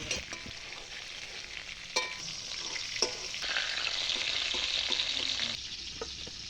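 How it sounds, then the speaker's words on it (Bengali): Pointed gourd (potol) frying in hot mustard oil in a wok with a little salt and turmeric, a steady close sizzle with occasional stirring clicks and pops, no voices. "এবার কড়াইতে সর্ষের তেল গরম করি, পটলগুলো একে একে দিই, সামান্য লবণ হলুদ গুঁড়ো দিয়ে ভালো করে পটলগুলো ভাইজে তুলে নেব"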